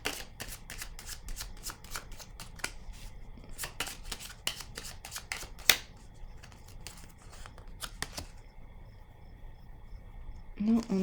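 Tarot cards shuffled and drawn by hand, a rapid run of crisp, close riffling snaps and flicks that pauses briefly and then resumes, with a faint scrape at the end.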